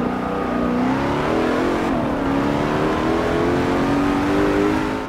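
A very powerful race car in Forza Motorsport 7, driven at full throttle with traction and stability control off, its engine screaming in a loud, sustained, close rev that rises and shifts pitch without pause.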